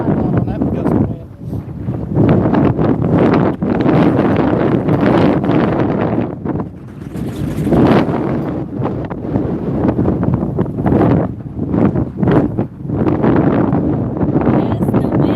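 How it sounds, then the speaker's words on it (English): Strong wind buffets an outdoor microphone at a carp fishing spot, a loud continuous low roar with gusting surges and brief dips throughout. "Yes, the wind is crazy."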